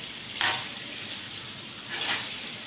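Marinated chicken frying in a hot pan, a close, steady sizzle that swells into two louder hissing bursts as the pieces are stirred or turned, with no voices.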